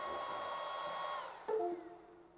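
A Longer B1 30 watt laser engraver runs with a steady whirring fan-like drone, then a brief louder shift in tone midway before the noise tapers down toward the end.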